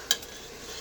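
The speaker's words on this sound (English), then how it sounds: "jam is just starting to boil. It's boiling for a couple minutes, and we've just been smashing it away." Mixed berry jam boils in a pot as it is mashed: one bright clink of a utensil against the pot, then a faint, soft bubbling and stirring.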